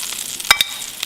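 French toast sizzling in darkening butter in a pan, a steady frying hiss broken by two sharp louder crackles or spatters near the middle, with no talking.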